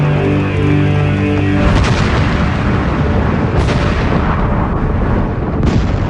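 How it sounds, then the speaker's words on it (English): Rock blasting in the Bingham copper mine pit: a heavy, rumbling blast that roars on continuously, with two sharper cracks breaking through the loud, sustained din. "After the rock is blasted free and crushed"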